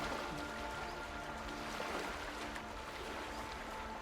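Wading through water in Talos Principle 2, a soft continuous splashing and trickling swish, steady and moderately quiet, with no voices.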